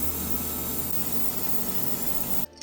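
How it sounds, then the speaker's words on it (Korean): Steady spray of clear coat from an airbrush or spray can over a Tamiya 1/24 Nissan Skyline GT-R BNR32 model car body, a continuous close hiss that stops abruptly near the end. "이제 클리어도 얇게 3번 정도 나눠서 바디 전체에 덮어줍니다."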